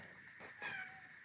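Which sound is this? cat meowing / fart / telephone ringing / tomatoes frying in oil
cat meowing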